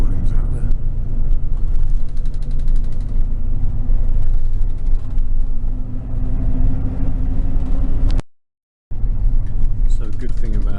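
Steady low engine rumble and road noise inside an airport bus riding direct to the city in Taipei, Taiwan, constant and loud with a brief dropout near the end, and a person talking over it.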